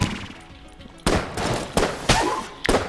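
Rapid, heavy gunfire bursts in the Enter the Gungeon video game, a gun firing many bullets in loud repeated volleys with bright impacts, roughly four strong bursts over softer crackle.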